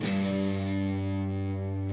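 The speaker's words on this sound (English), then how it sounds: "The only note that's going to ring out will be the 4th fret of the low E." A single sustained note on the low E string at the fourth fret rings out after a muffled upward strum on a distorted electric guitar, the tone held steady and alone for two seconds.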